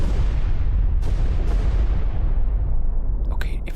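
Depth charges detonating underwater in a World War II destroyer game: a heavy, sustained low rumbling roar with deep booms, loud and continuous and slowly fading, with brief sharper bursts near the end.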